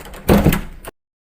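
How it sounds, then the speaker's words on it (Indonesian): A door closed indoors, one muffled thud with a brief rattle of the frame, close and fairly loud, ending in a short knock before abrupt silence. "Kak, tutup pintu dulu"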